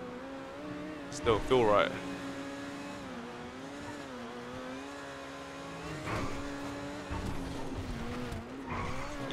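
An Overflod Entity MT supercar in GTA 5 revs and accelerates with rising engine tones and a brief squeal early on, then a steady drone with later bursts, as people talk over it.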